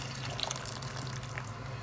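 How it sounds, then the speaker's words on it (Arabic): Hot water from an electric kettle, about a liter, poured over pieces of meat in a cooking pot, a soft continuous splashing trickle, fairly quiet and close. "تحطي عليهم لتر ميه سخنه مسخناها في الكاتل اهي"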